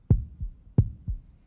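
A pounding heartbeat sound effect thumps in deep double beats, lub then dub, about twice in just over a second and a half, loud and close with nothing else around it.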